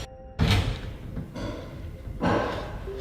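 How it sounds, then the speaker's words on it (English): A closet door shuts with a single loud thump, followed by quieter shuffling and a second heavier knock, close and alone in a quiet room. "Close this closet"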